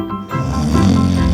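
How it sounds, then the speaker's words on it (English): A wolf snores loudly as a sound effect in a Little Red Riding Hood bedtime story, one long, deep, rumbling snore that starts after a brief pause and stays close and steady. "he saw the wolf snoring loudly with a full tummy"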